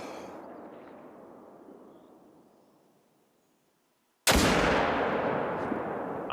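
A single sharp, loud Eckers .30-06 rifle shot in the hunting game theHunter: Call of the Wild, cracking suddenly after a fading echo and quiet, followed by a long booming decay.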